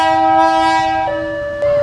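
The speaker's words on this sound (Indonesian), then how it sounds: "Lokomotifnya udah datang tuh, teman-teman. Ini memanfaatkan lokomotif KLB Krica." An Indonesian KLB Krica locomotive arrives at Probolinggo station, sounding a loud, sustained multi-tone horn that shifts pitch midway, alone with no talk.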